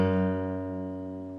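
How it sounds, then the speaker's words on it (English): A single guitar note picked on the 3rd fret of the low E string rings out clearly and alone, its sustained tone slowly fading over about a second and a half. "press down firmly on the 3rd fret of your low E string. Pick that note and let it ring out for a second."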